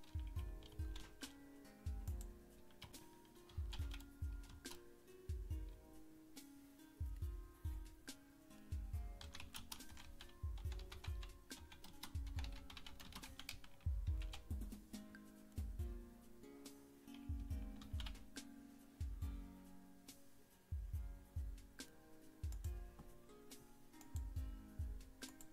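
Keys on a keyboard are typed in a long, close, steady stream of clicks coming in bursts with short pauses.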